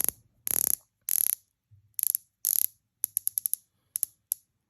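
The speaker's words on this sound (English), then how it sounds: "let's go ahead and hear the bezel action" A Ginault OR II Special Version watch bezel is turned up close, giving sharp ratcheting clicks in quick bursts, first in rapid rattling runs, then in spaced single and paired clicks. No talking is heard.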